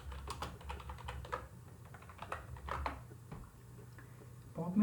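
Code is typed in C on a computer keyboard, a quick irregular run of light key clicks and taps, close and fairly soft, with a voice speaking now and then.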